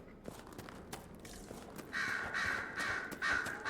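Crows caw loudly several times in quick succession in Dragon Age: Inquisition, harsh and near over a faint earlier patter of soft steps, with no talking.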